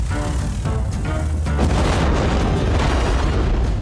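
A house fire roaring in the Flash Point: Fire Rescue video game, a loud dense rumbling blaze with a few booming bursts early on, steady and close throughout.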